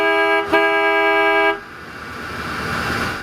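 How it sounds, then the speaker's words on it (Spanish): The horn of a 1970s Rolls-Royce sounds loud and close in a steady, musical multi-tone blast lasting about a second and a half, briefly interrupted near the start. A softer broadband hiss follows it. "la bocina del Rolls-Royce es perfecta para este vehículo"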